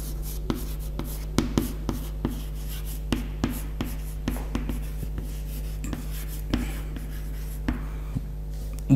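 Chalk tapping and scraping on a board during a history lecture, a run of short irregular strokes and taps at close range over a steady low hum, with no talking.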